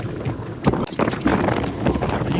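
Rushing headwind buffeting a microphone on a group road ride, a loud, broad roar with gusty surges and no talk.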